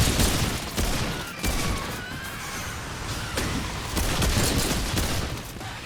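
Bursts of rapid gunfire from Remnant 2 run nearly nonstop, loud and close, with dense repeated shots. Other game noise fills the gaps between bursts.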